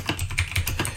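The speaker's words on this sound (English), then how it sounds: "And I'm typing while I talk because that's what I do." Rapid, fairly loud typing on a computer keyboard, with quick irregular clicks filling the whole second.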